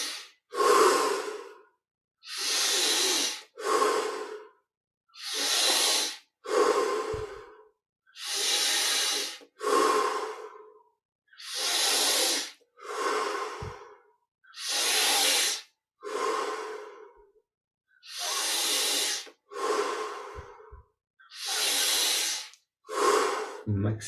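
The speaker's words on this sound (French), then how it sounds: "Maintenant, on augmente progressivement l'amplitude de chaque respiration." Deep, slow breaths during a Yogoda breathing exercise, about a dozen long inhales and exhales in steady rhythm, close and loud with short pauses between each breath.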